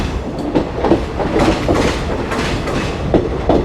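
The Shramjeevi Express rolls off a bridge into Kashi station, its wheels beating out a loud, rhythmic clickety-clack over the rail joints with a steady rumble underneath.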